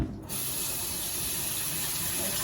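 Steady stream of water running from a kitchen tap into a sink to soak a hot pan used for milk tea shokupan, starting abruptly after a brief quiet moment and continuing loud and even throughout.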